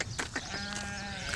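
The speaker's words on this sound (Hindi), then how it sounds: "ये बकरी बाहर है" A goat bleats in short wavering calls outdoors during an Eid gathering abroad, over a steady background hum and without any clear talk.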